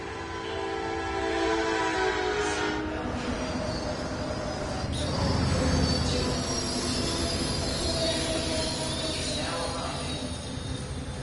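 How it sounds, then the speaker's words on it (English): A DMU train set with a P42 locomotive in the Roblox Rail Sim game rumbles steadily and loudly throughout, with wheel noise and a faint horn-like tone riding over the continuous roar. "And that is a DMU with a P42."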